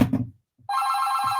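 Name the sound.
telephone ringing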